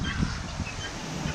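Guinea fowl call in short, loud honking bursts, a few harsh cries close by over a noisy background, with nobody talking.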